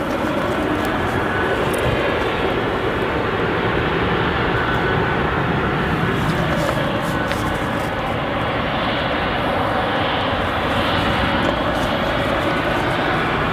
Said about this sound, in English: get a good shot for all of you of the China Airlines Cargo 777